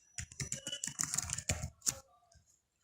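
Rapid clicking of a computer keyboard as code is typed, a close, busy run of keystrokes that trails off into silence near the end.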